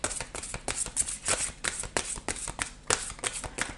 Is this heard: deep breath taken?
no